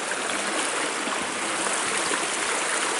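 Creek water runs steadily over rocks along a forest trail at Pixley Falls State Park, a dense, even rushing that stays close and continuous with no voices.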